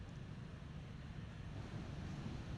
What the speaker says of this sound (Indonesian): Malam ini masih terjadi dengan gelombang ketinggian 5 meter